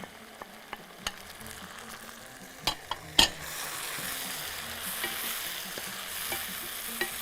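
Tomatoes are stirred into a frying pot for Bahraini jareesh, with several sharp spoon knocks against the pot, then a steady hissing sizzle rising and holding close.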